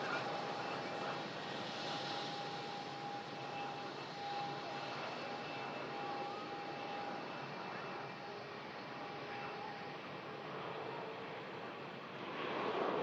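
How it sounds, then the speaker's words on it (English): An Aer Lingus A320 landing and slowing with its clamshell thrust reversers, a steady broad jet roar that holds at an even level for several seconds, swelling slightly toward the end under light wind. "Clamshell reverse system, slowing the aircraft down."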